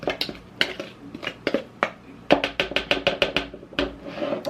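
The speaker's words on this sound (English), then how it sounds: "I'm going to mix this up so that our flour has a nice flavorful seasoning combo with it" Utensil clinking against a dish while mixing seasoned flour for air-fried tilapia, a rapid run of sharp metallic taps and scrapes, close and fairly loud, picking up in tempo toward the end.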